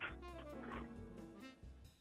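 An old pet dog makes soft, whimpering yips and low vocal noises close to the microphone over a brief moment, faint overall, with little talk.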